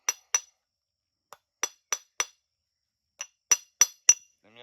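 Sharp glassy clicks as a flint knapping tool chips a red glass arrowhead, close and isolated, arriving in small clusters of two to four with brief silences between.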